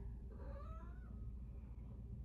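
A talkative pet cat gives a faint, drawn-out meow that rises and falls once against a low indoor background hum.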